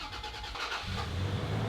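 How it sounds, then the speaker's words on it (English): A 4-liter six-cylinder truck engine, powered by a jump starter, cranks for under a second, then fires and runs in a loud, steady mid-pitched rumble. "And again, starts no problem."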